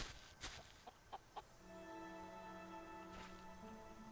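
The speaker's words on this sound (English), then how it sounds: "Cheeky chicken." Clucks from a chicken in a survival video game, a few short close peaks early on, then a steady tonal game ambience with no speech.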